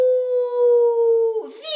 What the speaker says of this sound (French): On entend même un ululement lugubre. Le cri du fantôme résonne entre les vieux murs sinistres.